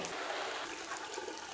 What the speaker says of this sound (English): Just going to add the water in.